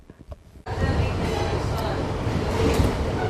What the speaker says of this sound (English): I am on the train on my way to day 2 of New York Comic Con